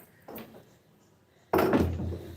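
A door in a home with a pet cat, a soft knock early on, then a sudden louder thud and rattle as it opens or shuts nearby.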